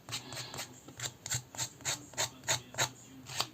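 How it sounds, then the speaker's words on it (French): Scissors blade scraped repeatedly along the edge of a paper card to distress it, about ten short, dry rasping strokes in a steady rhythm, close and fairly quiet with no voices. "vous venez gratter, la tranche de votre carte."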